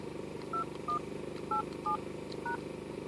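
Five short two-tone telephone keypad beeps punch in a voicemail password, evenly spaced over a steady low background hum with no talking.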